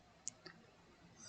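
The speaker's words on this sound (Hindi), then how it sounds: "और यहाँ पर डन पर क्लिक करेंगे।" A single sharp mouse click on an on-screen Done button, quiet and close, followed by a softer second tick, with no talk.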